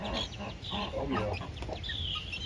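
Hens and baby chicks in a backyard coop give repeated soft clucks and higher chirps, close and busy across a couple of seconds over a faint outdoor background.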